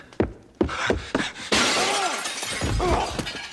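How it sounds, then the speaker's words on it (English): A mirror in the 1992 film Army of Darkness is smashed, with a few thuds and then a loud bright burst of shattering glass that rings on and scatters for a couple of seconds. "he then looks at a reflection of himself in a mirror and immediately just runs at it, breaks it."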